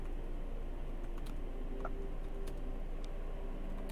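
Steady keyboard typing with light scattered key ticks over a constant background hum, moderately faint and close.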